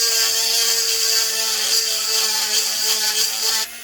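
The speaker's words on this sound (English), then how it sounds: "we're going to use the rotary tool with this, I think it's called a miter bit on it" Rotary tool on its highest setting with a miter bit grinding excess plastic from inside an AMT Opel GT model kit body, a loud continuous high-pitched whine with steady harmonics, slight load wavering, stopping at the end.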